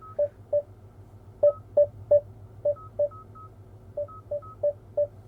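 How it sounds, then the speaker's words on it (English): A 2024 Hyundai Kona sounds its driver-assistance warning tones, a series of about fourteen short, crisp electronic beeps in an uneven rhythm over a low cabin hum, with no voices. "These are what you might hear for warnings."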